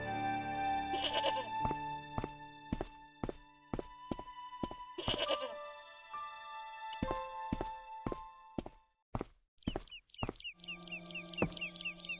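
Goat bleating in the Broken Sword point-and-click adventure game, a few bleats heard over a steady run of footsteps and clunks, with a wavering animal call near the end.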